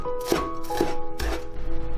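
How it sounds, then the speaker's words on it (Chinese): A knife chops scallions on a cutting board in three distinct, evenly spaced strikes, close and crisp, with a faint steady tone underneath. "葱给它切碎"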